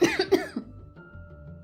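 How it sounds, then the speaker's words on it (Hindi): Two loud, harsh coughs right at the start, close and abrupt, then fading into quiet room tone. "तभी एक दिन रेशमा को बहुत जोर से खांसी आई।"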